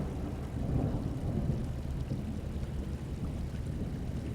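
A stormy sea in a professional ship simulator game, heard as a steady, dense roar of wind, rain and rumbling water with a low thundery undertone, continuous and fairly loud, with no voice.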